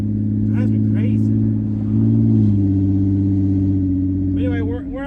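Ford Explorer ST fitted with a big turbo kit, idling close up with a deep steady drone, revs rising briefly midway before settling, as someone talks over it.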